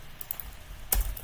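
A handful of sharp computer keyboard clicks, as when pressing Ctrl V to paste, come in quick irregular taps close by, with one louder keystroke near the end and a soft background hum.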